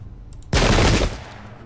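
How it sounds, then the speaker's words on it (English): A musket volley in the Pike and Shot strategy game crashes out as one loud, dense burst of massed gunfire lasting about half a second, then tails off quickly. "I'm going to fire at him first. Alright, I'll fire at him."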